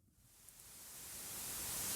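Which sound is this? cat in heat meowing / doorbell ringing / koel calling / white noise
white noise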